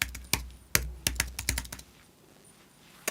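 Fingers type on a computer keyboard in a quick, uneven burst of sharp clicks at close range, then fall quiet, with a final lone keystroke at the end.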